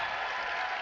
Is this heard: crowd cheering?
yes